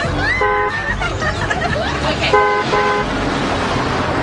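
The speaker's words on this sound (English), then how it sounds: "Is that honking for you, Miss Lindstrom?" A car horn outside honks several times in short toots, heard from indoors over a low background murmur of voices.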